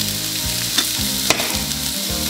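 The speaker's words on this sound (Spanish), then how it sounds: "Aceite estaba calientito, poner el ajo, dejamos rápidamente que hierva" Garlic fries in hot oil in a pan with a steady close sizzle and crackle, plus a couple of brief sharp pops.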